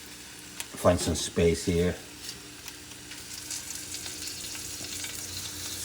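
Garlic sizzles as it goes into a hot frying pan, a steady bright crackle that runs on after a brief spoken remark near the start.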